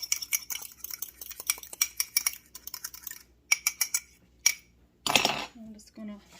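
An egg yolk is whisked with a utensil in a small dish for an egg wash on a strawberry rhubarb pie, a close run of quick light clinks and taps that pause and restart, with a brief louder scrape near the end.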